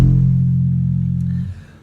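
A single F note on an electric bass guitar, picked on the first fret of the fourth string, rings out deep and steady for about a second and a half before being muted, with no talking over it.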